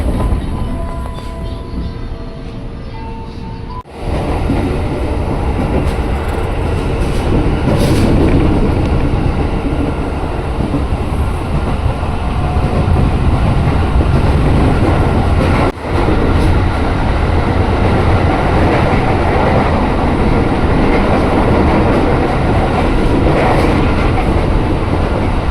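KRL commuter train pulling out of Universitas Indonesia station, with a steady loud rumble of wheels and motors building and continuing throughout, heard from inside the car.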